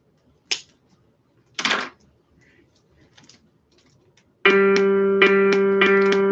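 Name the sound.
musical note G played for perfect pitch training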